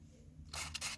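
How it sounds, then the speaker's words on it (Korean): A Minolta Riva Zoom 70W compact autofocus film camera fires its shutter, with a brief whirring mechanical burst, close and quiet, after a moment of near silence. "그냥 셔터만 눌러주면 되는 거예요."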